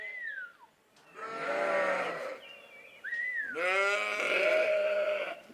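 Sheep on a farm in Madeira bleat loudly and close by, with a short call, a long wavering bleat, then another drawn-out quavering cry, with no talk.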